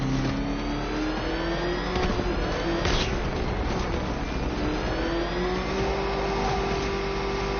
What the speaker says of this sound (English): Can that ramshackle motor handle this?